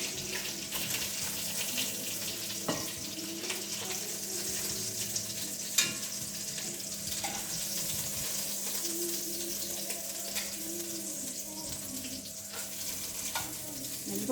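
Beef ribs frying in oil and meat juices in a pan, a steady close sizzle and crackle that continues evenly throughout with occasional clinks of utensils.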